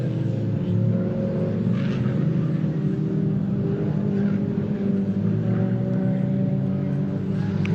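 Several BMW Mini race cars in a Mini Challenge Clubsport circuit race at Pembrey drone steadily with continuous engine noise, a dense layered roar that holds level throughout with no clear single pass-by.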